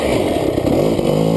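A GasGas EC300 two-stroke dirt bike pulling away in second gear, a loud, close, raspy engine note that revs steadily and unbroken through the whole moment.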